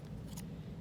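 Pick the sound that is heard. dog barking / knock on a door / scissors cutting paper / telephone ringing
scissors cutting paper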